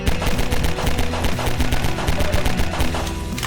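A pistol fires semi-automatically in Half-Life 2 in a rapid, loud, unbroken string of sharp shots with a constant low rumble beneath, and no voices.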